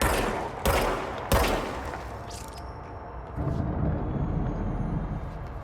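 Gunfire in the video game Control, with two sharp shots near the start followed by a continuous rumbling battle din with rising noise in the second half.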